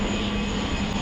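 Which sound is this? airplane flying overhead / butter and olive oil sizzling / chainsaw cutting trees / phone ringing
airplane flying overhead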